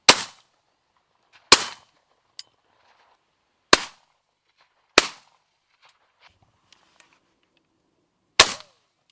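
A double-barrelled, non-semi-auto shotgun fired at pigeons and crows in a rainy Irish field: five loud, sharp, close reports spread over several seconds, each cutting off quickly, with faint small clicks between and no talking.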